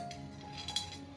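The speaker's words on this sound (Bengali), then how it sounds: "এবার দেখো এর উপরে আমি কড়ি দিয়ে দিচ্ছি" Cowrie shells set down on a Dhanya Lakshmi puja offering give faint, light clinks and taps, one slightly sharper click standing out against a quiet room.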